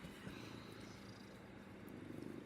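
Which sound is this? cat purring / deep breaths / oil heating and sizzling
cat purring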